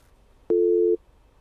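A single steady electronic phone-line tone after a call drops, sounding for about half a second, loud and clean against a quiet background.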